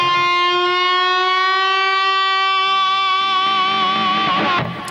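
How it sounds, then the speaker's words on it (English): A sustained electric guitar note on the B string at the sixth fret, bent up a full step, rings out loud and alone for several seconds with slight vibrato as it holds, then cuts off briefly at the end. "We're just gonna bend from the 6th fret of the B string up a full step"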